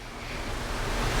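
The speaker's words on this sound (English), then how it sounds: "it's pouring down outside" Heavy downpour outdoors, a continuous wash of dense hissing noise that swells slightly toward the end, with no voices over it.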